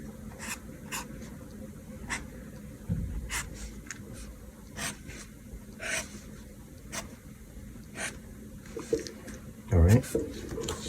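Hand-drawing eye details on paper: faint, scattered scratchy strokes of pencil or pen, short and irregular, over a quiet background with a soft muffled bump near the end.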